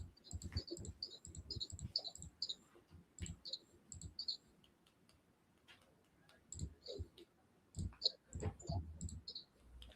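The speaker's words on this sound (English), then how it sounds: "All this damn clicking I'm doing." Computer mouse clicking in a quiet room, sharp close ticks in quick irregular bursts, pausing now and then before starting again.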